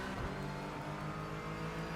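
Race car engines drone and rev together as the iRacing field pulls away from the pace car start, a dense, steady engine roar with layered pitches rising slowly.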